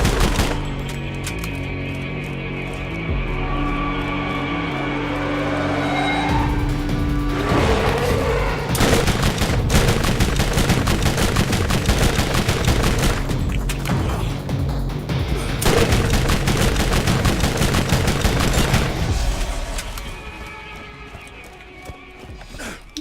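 A slow-firing Tediore gun in Borderlands fires through a long stretch of loud, sustained shots and booms layered over busy game sounds and music, tapering off near the end.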